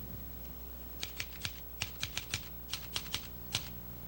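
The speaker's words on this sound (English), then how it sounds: "at his table, with his typewriter, turning out his column" Typewriter keys strike in an irregular run of a dozen or so crisp clacks over a low background hum, close and clear, with no talking.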